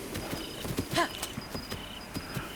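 A horse gallops in Zelda: Breath of the Wild, its hooves making a steady, even clip-clop at close range with a brief snort-like call partway through.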